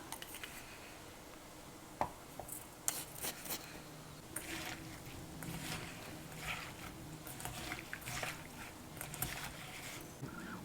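Cucumber side dish being mixed with sugar in a bowl, soft wet squishing and light clinks of utensils against the dish, faint and close in irregular bursts, with one or two sharper knocks.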